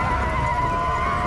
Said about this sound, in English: the horses come over the hill with the Dothraki